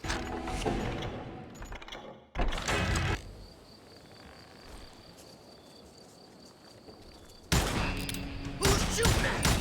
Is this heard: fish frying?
no